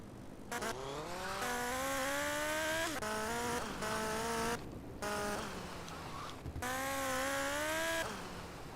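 A motorcycle engine in a race in the video game GTA Vice City Stories, revving loudly and close in rising and falling whines that break off between gear shifts, with brief drops and short gaps.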